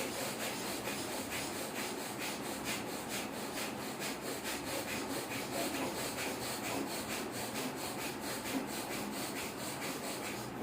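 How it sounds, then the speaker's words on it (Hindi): Fast, forceful breathing during a breathing exercise, with rapid rhythmic pulses of breath in and out that keep a steady quick pace for the whole stretch, faint and airy and without speech. "तेजी से ताकत से सांस लीजिए और छोड़िए"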